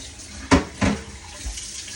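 Hot water from a kitchen tap while rinsing, with two short gushing splashes close by over a faint background hiss.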